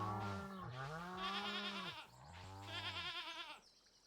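A goat in a farming video game gives two long, wavering bleats in close succession, clear and alone without talk.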